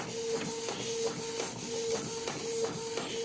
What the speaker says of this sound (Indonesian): Di sini saya menggunakan printer modif sablon ya dari Grosir Tinta Printer